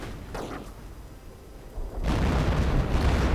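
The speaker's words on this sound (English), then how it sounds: "More artillery." Artillery shells bursting in a real-time strategy battle, a couple of dull distant booms followed by a heavier, sustained rumble of explosions, with no voices.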